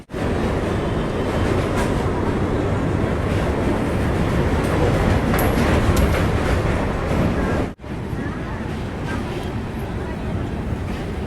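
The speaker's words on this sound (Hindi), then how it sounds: "ट्रेन अपनी पुल पर चढ़ चुकी है" Purva Express train rolling across the Ganges bridge at Varanasi, a loud, dense, continuous rumble and rattle of wheels and carriages that cuts out abruptly for an instant near the end before resuming, with a voice talking over it.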